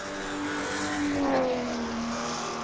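A race car engine in a racing video game holds a steady, loud tone while power sliding through a final turn, the pitch bending down slightly mid-slide and continuing without break.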